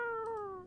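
Cat in a video game giving a single short, clear meow that slides slightly downward in pitch, quiet and alone.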